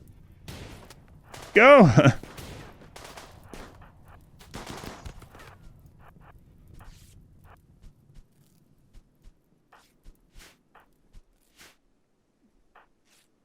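Gunfire from the game RimWorld crackles in a short burst with a sharp whining tone, then scattered single shots tick away more faintly, while a player speaks briefly early on.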